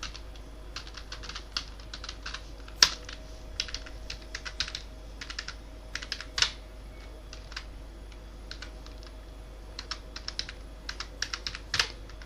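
A name is typed into an Excel admission form on a computer keyboard, with scattered clicks and short runs of keystrokes plus a few harder taps, quiet over a steady hum and without speech.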